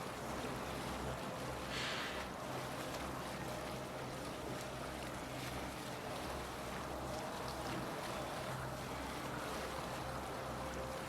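A ship with a dragon figurehead sails the sea in a video game, rendered as a constant wash of waves and rushing wind with a low rumbling hull, steady and unbroken throughout.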